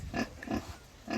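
A pig on a farm gives three short, close grunts in a slow, even rhythm.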